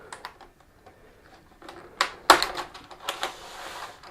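Plastic tabs on the bezel of an Acer 27-inch S71H monitor clicking open, a few soft close ticks followed by a sharper cluster of snapping clicks, no talking.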